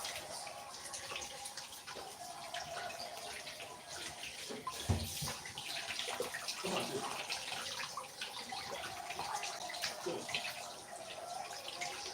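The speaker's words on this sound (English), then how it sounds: "you have to ensure that you're washing it really clean to remove all the sand" Pineapple peel is washed in water to rinse off sand, with steady splashing and running water throughout and a brief louder knock midway.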